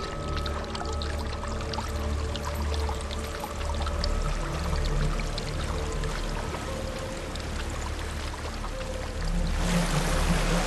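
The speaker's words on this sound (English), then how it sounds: "There's a waterfall." Steady rushing pour of a waterfall in Hellblade: Senua's Sacrifice, a continuous broad wash of falling water that fills the scene and swells slightly louder at the end.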